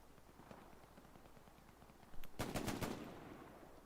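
Automatic gunfire in the Hell Let Loose online shooter, a match in the town of Foy: faint distant shots early on, then a loud close burst of rapid automatic fire lasting about a second, followed by a ringing tail.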